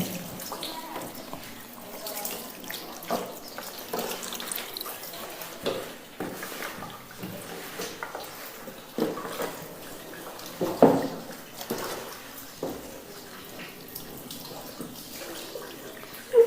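Water is poured and splashed over a deceased body during Shia ritual washing, heard as quiet, irregular pours and drips with a low voice speaking nearby.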